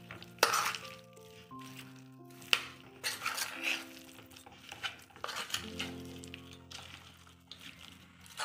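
Chicken biryani marinade with coriander is stirred and mixed in a bowl, making repeated wet squelching and scraping sounds with occasional clinks of a spoon against the dish, close and steady with a hum beneath.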